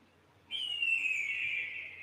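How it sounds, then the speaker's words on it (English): A recorded hawk call, one long, clear, piercing screech that starts abruptly and slowly falls in pitch, fairly loud and alone over near silence. "hawk sound."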